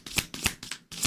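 A deck of tarot cards is riffled and shuffled close up, four quick bursts of flapping card edges in an even rhythm with no talk.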